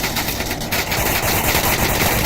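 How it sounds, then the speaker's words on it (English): Dense rapid bursts of automatic gunfire in the VR shooter Onward during a competitive match, loud and continuous blind fire with overlapping shots and no clear talk. "Another one taken out by Ragnarok's blind fire."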